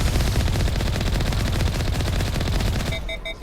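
Turret gunfire in the video game Mass Effect Legendary Edition: a loud, continuous rapid-fire stream of shots that runs unbroken and then cuts off into a few high electronic beeps.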